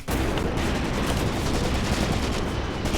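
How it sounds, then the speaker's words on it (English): Rapid revolver fire in the WWII tactics game Graviteam Tactics: Mius-Front, a dense, loud stretch of overlapping gunshots and battle noise with no pauses, heard alone without voices. "He's firing a revolver here right at the commander and missing every single time."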